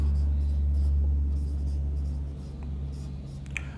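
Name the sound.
writing on a board during a lesson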